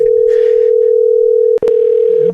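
A steady telephone dial tone hums loud and close, briefly interrupted by a click before the tone resumes with faint pulsing.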